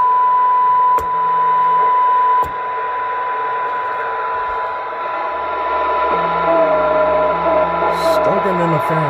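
Steady electronic audio tone from a Stalker IX police radar unit on the test bench during a full service, holding a constant pitch throughout with brief clicks and a later shifting whine, faint background noise underneath.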